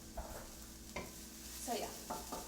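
Meat and vegetables cook together in a single pan with a soft, steady sizzle under a few scraping stirs of a utensil, close and moderately quiet.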